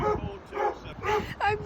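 Effie, a little Greek street dog, whimpers and yips in several short, high, whiny bursts at close range while someone talks over them.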